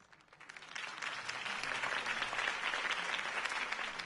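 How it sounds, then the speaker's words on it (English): A crowd's applause in the Batman Telltale game swells from a faint start into sustained, even clapping that holds steady and fairly distant, with no voices over it. "could have heard that applause"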